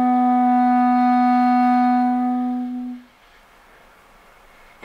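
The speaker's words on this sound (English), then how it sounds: "that's going to give you C sharp" Clarinet sounding a sustained C sharp up close, one steady tone held for about three seconds that then tapers off into quiet room noise.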